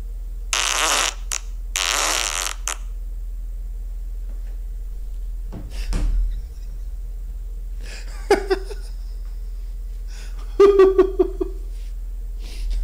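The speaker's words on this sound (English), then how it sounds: "if you cut a fart like this, it's gonna be laundry day" Long, buzzy fart noises arrive in a couple of loud bursts early on, and sputtery, squeaky bits follow later, standing out over a low steady hum with no talking.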